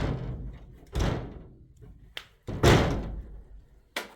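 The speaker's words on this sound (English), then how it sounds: "I can open the door." A patio door in a Spanish apartment is worked open with several sharp thuds and knocks spread through, one louder bang near the middle, then a brief fainter sound after each, with quiet room tone between.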